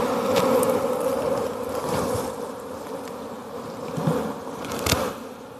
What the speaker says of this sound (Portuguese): Nossa, às vezes tem um bolo de abelha atrás de nós.